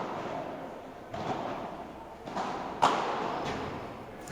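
Padel ball struck with a racket during a tournament final, a few dull thuds spaced over a steady background of court noise, one sharper hit standing out midway.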